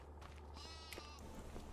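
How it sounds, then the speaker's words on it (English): Sheep and goats in a big open farmyard in Farming Simulator 25 bleat faintly in the background, with one wavering call standing out over a steady low hum. "You got your goats and sheep out here, just fantastic"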